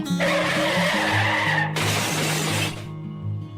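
A car in the Roblox Brookhaven game skids and cannot stop, a loud tire screech with a shattering crash, over a light game melody.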